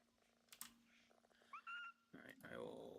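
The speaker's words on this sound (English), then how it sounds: "I hear a cat. Yeah, it's in the game." A video game cat from Power Wash Simulator 2 gives a couple of soft rising meows, faint under a voice talking nearby.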